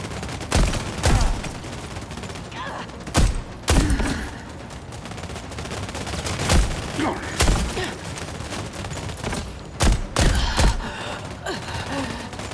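Sniper gunfire in The Expanse: Osiris Reborn, with sharp loud shots cracking at irregular intervals over a continuous clatter of battle noise, with voices mixed in.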